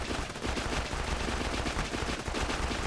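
Rapid, unbroken automatic gunfire from Zer0's gun in the video game Borderlands, a loud, dense stream of shots that never stops for a reload across the whole stretch.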